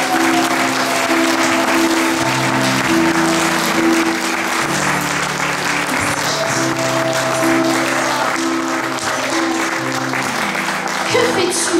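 A church congregation bursts into loud, sustained applause acclaiming the word of God, a dense wash of clapping with music playing underneath for the whole stretch.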